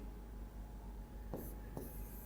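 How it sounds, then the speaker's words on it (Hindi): Writing on a board, faint and quiet, with two short scratchy marker strokes against a low, steady room hum. "तो अब हम लिख दें यहां पे"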